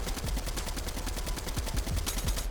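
Rapid automatic gunfire from a gun in a battle-royale video game, a dense unbroken burst of shots loud and up front with no talking.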